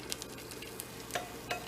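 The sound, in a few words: eggs frying in a pan for fried rice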